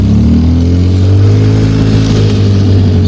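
A twin-engine bike grinds up a steep trail in low gear, its steady, loud engine drone holding a low throbbing pitch throughout with no talk.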